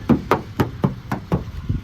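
Knuckles rap on the body panel of a 2022 Mitsubishi Xpander in six or seven firm, evenly spaced knocks, close and clear with no talking.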